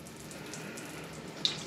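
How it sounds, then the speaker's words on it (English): A weak bidet sprayer in a Pattaya hotel bathroom gives off a thin, steady hiss of spraying water, fairly faint and continuous, with a small splash near the end. "A bum gun test. Look at this bum gun."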